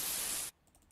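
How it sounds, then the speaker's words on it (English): A burst of white noise effect, bright and loud for half a second, then cutting off abruptly to near silence. "Let's get some white noise in there."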